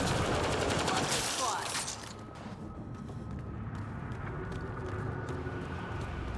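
Gunfire from the Dawn gun in Mass Effect Andromeda, a loud burst of rapid shots at the start, then a lower stretch of continuous game ambience and combat noise.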